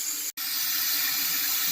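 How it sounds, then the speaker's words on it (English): Water seeps steadily into a toilet tank as it slowly fills, giving a continuous close hiss and trickle. One brief cut to silence near the start breaks it. "we can see a lot of water seeping out right here. It's going down into the tank. And as you can see, it's slowly filling this tank"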